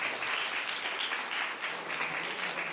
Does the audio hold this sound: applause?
yes